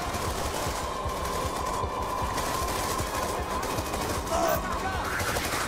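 Ships in a space combat video game fire rapid, continuous bursts of gunfire, a dense rattling barrage that runs steadily throughout at fairly loud level, with no talk over it.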